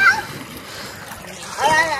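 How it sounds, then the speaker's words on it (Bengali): Water splashing as a group bathes together at Bakkhali beach, brief splashes at the start and end with children's voices chattering close by throughout. "সবাই মিলে চান করছি, আর এই দেখো সব জলে"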